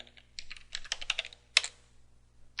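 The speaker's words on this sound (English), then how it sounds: "Type in our root password" Quick keystrokes on a computer keyboard as a root password is entered, a rapid cluster of close crisp clicks, a sharper key press, then one last tap after a short pause.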